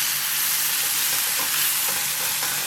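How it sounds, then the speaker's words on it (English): Spice paste for Bogor-style noodle soup frying in a pan, a constant dense sizzle, close and loud, with faint occasional stirring. "I always think it's good to fry it for a couple minutes"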